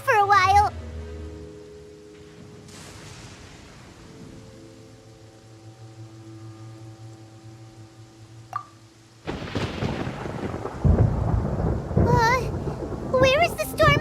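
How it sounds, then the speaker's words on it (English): Thunder in the game Genshin Impact: a low rolling rumble with a sharp crack partway through, then a loud swell of rain and storm noise, while a childlike voice and other speech carry on over it. "Paimon hears thunder!"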